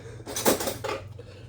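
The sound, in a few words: getting a knife out among cutlery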